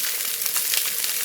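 Steak sizzling hard in a frying pan after being flipped, a dense, loud, crackling hiss with steady spitting pops, close up and without talk.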